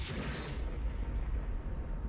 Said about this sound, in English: That was a big explosion.